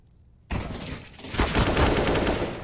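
Bursts of automatic gunfire from a Counter-Strike: Global Offensive match, erupting abruptly after a brief quiet and building into a dense, sustained volley of close, loud shots.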